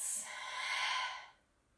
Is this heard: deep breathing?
yes